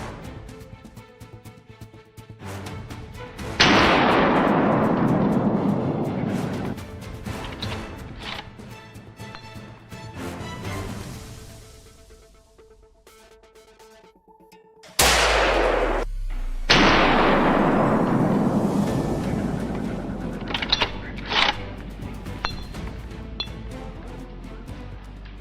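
Hunting rifle shots ring out at wild boars on a slope, with two loud sharp blasts several seconds apart, each followed by a long rolling echo, plus a few fainter cracks in between.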